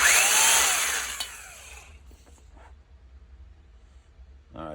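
A valve seat on a cylinder head is lapped by hand, giving a harsh gritty grinding rasp that is loud at first and fades after about two seconds, followed by quieter scraping and a brief rough burst at the end.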